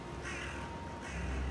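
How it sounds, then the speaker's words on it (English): A crow cawing in the game Valheim, heard as a steady harsh call over a constant ambient game soundscape, with no voices. "There's just a bird sitting here."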